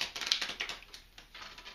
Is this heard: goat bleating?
no